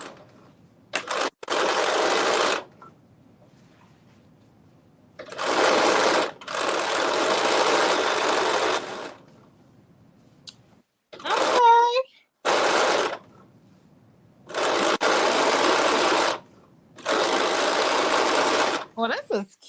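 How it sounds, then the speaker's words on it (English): A sewing machine stitches a skirt in several whirring runs of a few seconds each, separated by quiet pauses, with a brief voice in one gap. "I am stitching this up."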